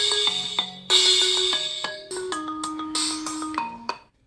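A phone plays a melodic ringtone for an incoming call, a bright sequence of tonal notes stepping up and down in quick rhythm, close and clear with no talking.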